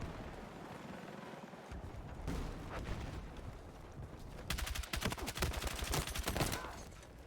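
Gunfire in a Battlefield 6 multiplayer match, a dense rapid burst of automatic shots over a rumbling battlefield background, loud and close in the second half.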